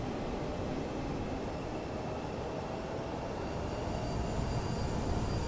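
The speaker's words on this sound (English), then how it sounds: "Just come up on the thrust a little bit to get the aircraft moving." Twin CRJ jet engines in Microsoft Flight Simulator rising in thrust for taxi, a steady broadband roar and hiss with a faint tonal whine, constant and moderately loud with no voices.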